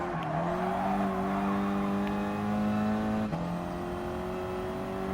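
Ford Focus ST engine in Gran Turismo Sport on a reverse Dragon Trail time trial, holding a steady loud drone that climbs in pitch, drops abruptly at a gear change, then rises again, with faint tire noise.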